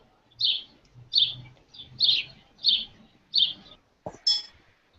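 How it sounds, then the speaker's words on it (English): Birds chirping in the background of a student's room, about seven sharp, bright tweets in an even rhythm, each separated by quiet, heard alone and fairly clear. "There's some birds in your background, so I just muted you."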